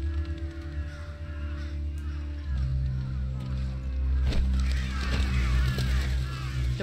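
Crows caw in a Final Fantasy 16 game scene, calls rising over a steady low hum of ambient music and background noise, with a sharp sound near the middle.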